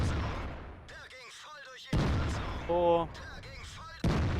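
Heavy tank guns firing in the World of Tanks video game against an E-100 heavy tank, with several loud booming shots separated by gaps and a short tonal game cue, while a voice talks over the action.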